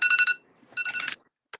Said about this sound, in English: timer went off